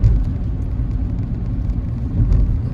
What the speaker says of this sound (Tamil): எவ்வளோ வேகமா போகுது ஒரு வண்டி